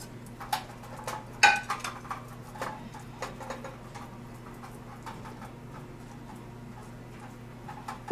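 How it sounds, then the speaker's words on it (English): Roast beef with rosemary moved from a plate into a roasting pan: scattered light clinks and taps, with one sharp, ringing metallic knock, over a steady low hum in a quiet kitchen. "So now I'm going to transfer to my roasting pan."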